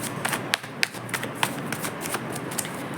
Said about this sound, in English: Let me find out a little more with my tarot cards.